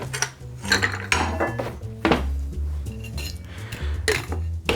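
A cocktail shaker holding pineapple bourbon lemonade and ice is shaken hard and close, giving a run of metallic clinks and rattling ice knocks in uneven bursts.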